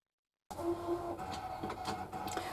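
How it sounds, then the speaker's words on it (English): A crafting cutting machine cuts out drawer pieces at full speed, a constant mechanical whir and hum that starts suddenly and carries on steadily at a moderate level, with no speech. "Forgive the noise, I've got my machine going 10 to the dozen behind us, trying to cut out all these drawers"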